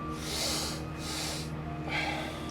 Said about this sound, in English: we're gonna do a rhythmic breath